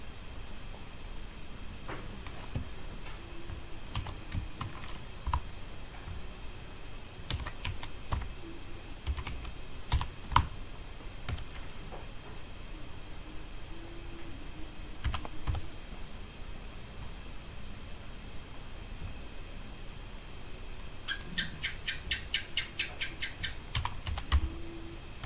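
Someone types a message on a computer keyboard in short, irregular bursts of soft, close clicks, with a denser run of rapid keystrokes near the end, over a steady background hiss and no talking.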